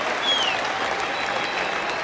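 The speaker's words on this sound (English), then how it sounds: "A mighty cheer for Michael Clarke and Brad Haddin" A cricket crowd at Lord's during the 2009 Ashes second Test cheers and applauds Australian batsmen Michael Clarke and Brad Haddin, a steady wash of clapping filling the ground.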